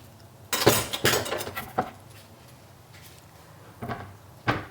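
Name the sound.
chopping baby button mushrooms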